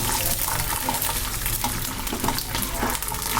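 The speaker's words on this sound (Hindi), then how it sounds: "मेरा तेल गरम हो चुका है और अब मैं इसमें डालूँगी अपने भट, जो इनको भूनूंगी" Bhat beans, a black soybean, sizzle steadily in hot oil in a home kitchen pan. A continuous dense frying hiss holds at an even level throughout, with small crackles and pops scattered across it and no voices.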